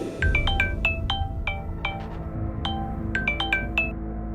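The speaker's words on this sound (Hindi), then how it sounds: "कि तभी उसके मोबाइल की रिंग बजने लगी।" A mobile phone rings with a bright, chiming ringtone, repeated rising clusters of high bell-like tones over a low background hum, steady and fairly loud with no talking.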